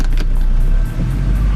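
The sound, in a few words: truck engine driving through mud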